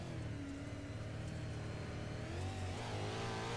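An onboard race car engine drones loud and steady on a lap of Huset's Speedway dirt oval, the pitch rising and falling slightly through the turns with no voices over it.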